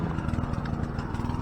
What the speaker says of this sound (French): J'espère qu'on n'entend pas trop la tondeuse.